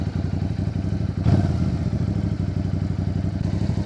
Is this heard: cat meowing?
no